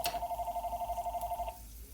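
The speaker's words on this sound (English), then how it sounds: "You know the phone's gonna ring, didn't y'all?" A telephone rings with a fast warbling electronic trill for about a second and a half, then stops, close and moderately loud over faint room hum.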